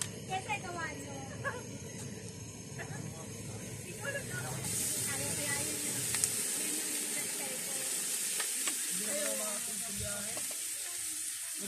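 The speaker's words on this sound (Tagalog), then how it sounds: "Ayan yung sisig na ano. Luto na siya, iniinit lang." Already-cooked sisig reheating on a hot pan, with a steady close sizzle and hiss plus occasional stirring scrapes; people talk in the background at a beach resort over the New Year.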